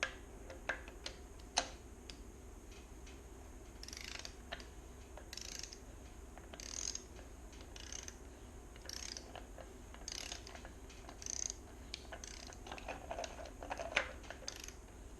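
A torque wrench ratchets while tightening a nut on a Dana 30 axle of a 1979 Jeep CJ5, with repeated close clicking strokes in irregular bursts across a quiet workshop background.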